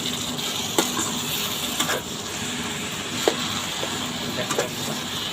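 Red amaranth greens fry in a hot pan with a steady, close sizzle and a few sharp clicks and scrapes from stirring, with no talking.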